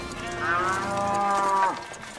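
Sacrificial bulls and cattle give one long, deep, drawn-out moo, loud and close, with no other sounds.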